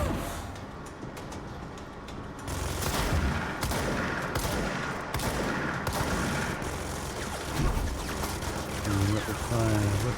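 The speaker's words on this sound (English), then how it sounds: "Rapid fire weapon." Rapid gunfire from a weapon in the video game Control, sustained bursts of dense, fast shots over heavy background noise, fairly loud and continuing for several seconds, with faint talk mixed in.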